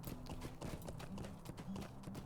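Galloping horse hooves in the Lord of the Rings Online video game, a steady rapid clip-clop rhythm running throughout at close range, with a faint voice briefly underneath.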